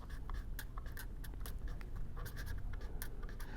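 Chalk or marker scratching across a lecture board in a steady run of short strokes, moderately close, with a low room hum underneath and no talking.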